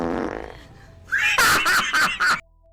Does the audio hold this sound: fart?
yes